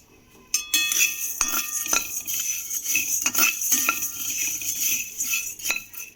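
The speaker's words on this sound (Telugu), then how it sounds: "ఇందులోనే ధనియాలు వేపుకుంటున్నామండి." Coriander seeds dry-roasting in a kadai without oil, stirred with a metal spoon: repeated close clinks and scrapes against the pan over a steady sizzle-like hiss.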